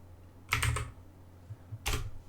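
A computer keyboard clicks in two quick bursts of several keystrokes each, close and crisp, with a couple of soft single taps between.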